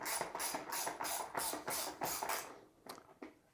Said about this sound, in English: I'm going to go ahead and tighten those down all the way